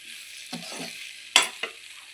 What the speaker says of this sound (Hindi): देखिए अब मैं बना रही हूँ अपने कटहल की सब्ज़ी।